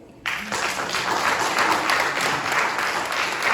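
An audience at a French-language evangelical church gathering breaks into applause, a sudden onset that swells into steady, dense clapping and cheering, loud and sustained.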